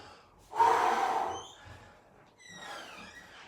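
Forceful breaths pushed out during a fitness boot camp exercise: a strong, breathy exhale of about a second, then a softer second breath, close by with no talking.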